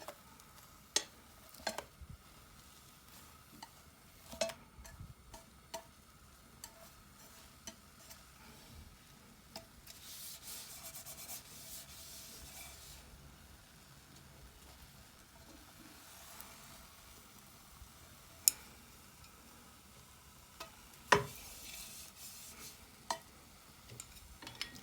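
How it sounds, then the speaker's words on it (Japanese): A Japanese dashimaki egg omelet being rolled in a frying pan: a faint, steady sizzle with scattered light clicks and scrapes of the utensil, quiet and close, with no talking. "まずは頭を外し、少しずつ巻いていく"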